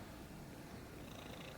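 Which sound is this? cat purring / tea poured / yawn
cat purring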